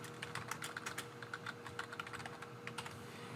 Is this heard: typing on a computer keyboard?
yes